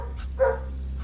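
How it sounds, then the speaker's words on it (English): A pet dog gives a single bark outside, fairly brief and moderately loud over a steady low hum, with no one talking. "my dog is barking right now"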